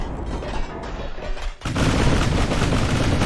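Secondary guns on a ship firing shells in the naval game Ultimate Admiral Dreadnoughts, heard as a dense, continuous clatter of rapid shots that dips briefly and then comes back louder and steady.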